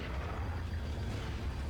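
Explosion in the video game Resident Evil 4 during the final boss fight, a dense, sustained low boom and rumble filling the whole moment without a sharp onset, moderately loud with no talk.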